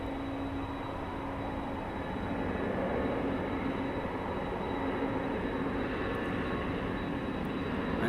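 A propeller aircraft at East Midlands Airport at night drones at a distance, a steady, faint engine hum that rises slightly and holds over open outdoor air.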